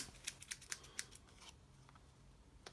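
Scissors snip along the edges of a paper craft piece, trimming off the excess in a quick series of crisp, close cuts that thin out toward the end.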